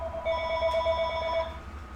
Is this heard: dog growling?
no